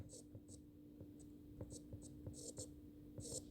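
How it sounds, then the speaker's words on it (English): Pen or pencil scratching out a math equation by hand on paper, quick faint strokes in short bursts with pauses, close and quiet over a steady low hum. "I write the equation out just so it's easier to plug in."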